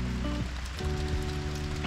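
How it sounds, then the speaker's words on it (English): Heavy rain pours down in a steady broadband patter, accompanied by a sustained low tonal hum that shifts pitch partway through. "it is starting to rain pretty hard."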